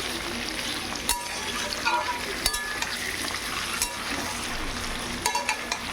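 Boiled mutton with onion and tomato frying in a wok, a steady moderate sizzle with occasional scraping clinks of a spatula stirring, close by with no talking.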